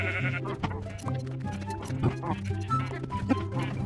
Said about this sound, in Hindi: फिर मैंने इन भेड़ों की हजामत की